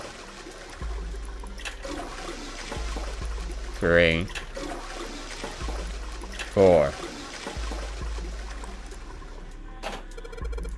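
Toilet flush in the video game 999: Nine Hours, Nine Persons, Nine Doors, a rushing water swirl over a low game hum, heard twice with short distinct bursts, while a person speaks briefly.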